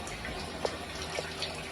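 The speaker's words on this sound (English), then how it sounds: "So the first thing I do is saturate my hair. Let the water get all through it." Water runs steadily through loc extensions of soft hair as it is saturated on wash day, a constant close splashing hiss with a few small drips and spatters on top, no talk.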